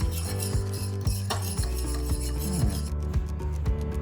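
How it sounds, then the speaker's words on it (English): A meatloaf mixture with raw sugar and maple syrup is stirred round and round in a bowl, giving steady scraping, clinking utensil strokes in a repeating rhythm, close and fairly loud with no talking. "Rob, seeing as you're the chief stirrer in the household, away you go. Here we are, round and round"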